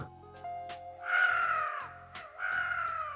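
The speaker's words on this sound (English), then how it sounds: "From his cawing, you understand that school really isn't for birds like him." Crow Mauler from the game Fear and Hunger gives two long, harsh caws one after another, loud and close over a steady low background hum.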